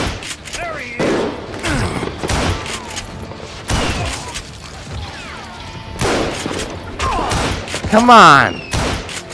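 Old guns firing in the Western shooter Call of Juarez: Gunslinger, several sharp, heavy shots and booming blasts in irregular bursts with ricochet-like whines, while someone talks briefly over the action.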